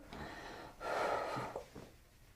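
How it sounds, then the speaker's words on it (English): Deep breath drawn in and let out through the nose during a chiropractic session, a single soft breathy rush that swells and fades, close and quiet with no talking. "You're gonna take some nice deep breaths in and out through your nose"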